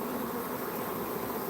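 A swarm of honey bees clustered on the front of a hive gives off a dense, steady buzzing drone. It is close and continuous, with no pauses and no voices.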